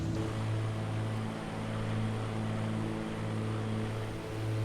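A propeller aircraft engine droning steadily in a flight simulator, a constant loud hum with a slight periodic throb and no talk over it.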